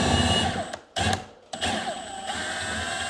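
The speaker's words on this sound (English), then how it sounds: "I'm going to finish getting some of the screws out of the wall" A power drill backs screws out of a home wall in loud, close whirring bursts, with a couple of short pauses between runs and a brief spoken word near the start.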